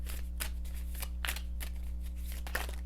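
Tarot cards are shuffled in quick rhythmic bursts, papery riffles and slaps repeating close to the listener over a steady low hum, with no talking.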